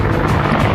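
An Apache helicopter's rotor and engine make a loud, dense, continuous roar through a brief moment, heard near and alone.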